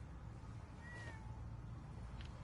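A cat meows briefly in Fallout 4, a short rising cry over a steady low ambient game hum, with a faint second chirp near the end.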